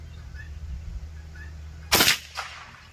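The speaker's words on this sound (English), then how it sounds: "I'm trying to shoot those little targets on the bottom there." One sharp, close gunshot from a Ruger American .22LR rifle fired at small targets outdoors, followed by a fainter echo or second crack over low background hum.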